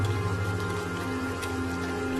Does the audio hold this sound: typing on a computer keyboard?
no